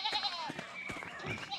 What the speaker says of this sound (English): the age-old path blocker. Sheep. Well, a ram and a sheep.